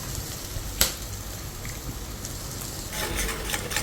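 Egg bhurji with vegetables fries in a pan, giving a steady close hiss of sizzling with a sharp tap early on and a brief burst of livelier crackling near the end.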